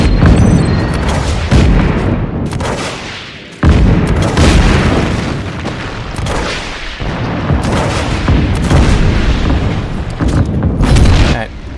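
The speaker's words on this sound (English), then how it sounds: "making, efficient use of the grenade launcher's destructive" Grenade launcher blasts in Just Cause 3 boom repeatedly through the whole stretch, heavy overlapping explosions with sharp onsets near 3.6 s and rolling rumble in between, loud and dense under game sounds.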